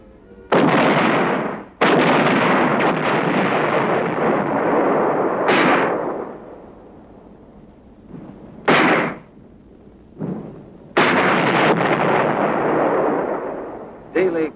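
Artillery guns firing in the Korean War, loud sustained barrages of booming blasts with rumbling tails, broken by short gaps and isolated single shots, some bursts close and heavy, others briefer.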